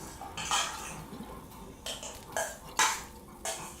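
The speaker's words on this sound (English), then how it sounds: "there is noise and I'm having some salad." Salad eaten with cutlery, close and quiet: a few scattered metallic scrapes and taps of utensil on dish, separated by soft pauses, with no talk.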